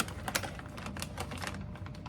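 Rapid, irregular knife chops on a cutting board as dates are cut up, a dense run of sharp clicking taps close by with no talking.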